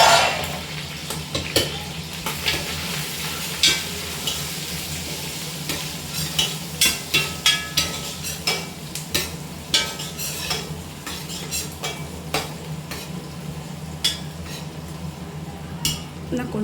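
Onion, raw plantain and brinjal sauté in a pan with a steady sizzle, while a spoon scrapes and clinks against the metal in repeated close strokes.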